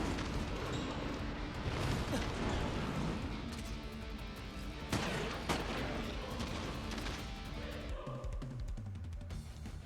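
Gunfire in the Crisis Core: Final Fantasy VII Reunion video game, heavy and continuous, with booming reports layered over a dense, noisy game mix for the whole stretch.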